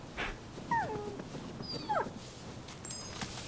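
A pilgrim's dog in the Rise of Ronin video game gives a few short, high whimpering yips while being petted, brief separate calls over quiet game ambience.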